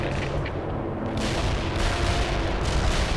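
Incoming enemy mortar fire in World in Conflict thunders as a dense, continuous barrage of booms and crackling blasts, loud and rumbling throughout with no pause.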